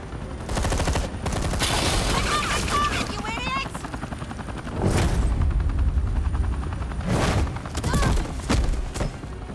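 Bursts of rapid gunfire with heavy thumps ring out in the video game Batman: The Enemy Within, over a steady helicopter-like drone, with voices speaking in between.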